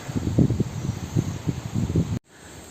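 Wind gusts across an exposed mountain trail, producing a buffeting rush with uneven bursts of low rumbling against the microphone. It cuts off abruptly near the end into a quieter hiss.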